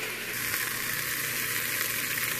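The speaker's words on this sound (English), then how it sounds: "And I might flip it over and let it brown a little on the other side." Chicken browns in a hot pressure cooker with a steady, dense sizzle and crackle of frying fat that holds level throughout, loud and close, with no voices.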